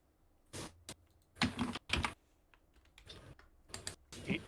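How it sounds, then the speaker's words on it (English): Fingers tap out a stock ticker on a computer keyboard, several short clustered bursts of crisp key clicks with brief pauses between them, close and clear in a quiet room. "I'm typing ATXD"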